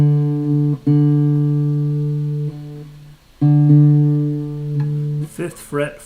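Guitar strings plucked in pairs for tuning, the fifth-fret note against the next open string, long sustained matching tones ringing out one after another, with a brief burst of speech at the end.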